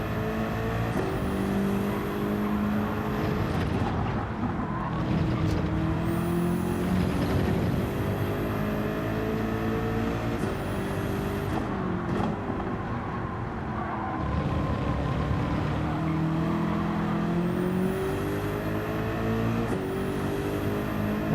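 Race cars in Gran Turismo 7 racing a lobby event: a steady, loud engine drone that rises and falls with shifts and cornering, with brief passing cars and no speech.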